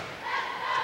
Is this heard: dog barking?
no